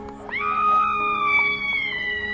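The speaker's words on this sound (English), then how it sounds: "Our damsel in distress screaming." A handheld noisemaker lets out a damsel-in-distress scream, a shrill, wavering high-pitched wail that rises sharply and holds for about two seconds, loud and close.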